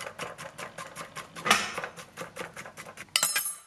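A knife chops a ripe banana into pieces on a board, a quick series of crisp taps with a louder knock midway and a final sharper clack, close and alone.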